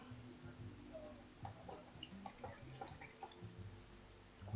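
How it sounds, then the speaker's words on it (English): A paintbrush swished and rinsed in a water container while painting a floral scene, soft irregular splashes and drips with light clinks, close but quiet. "rinse off the brush real good"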